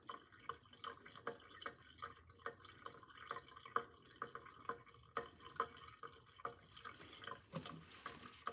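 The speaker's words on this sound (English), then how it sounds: "It's draining pretty good." Water draining and dripping from the pot of a freshly repotted rubber plant, a steady patter of soft irregular drips close by, fairly faint and continuous with no talking.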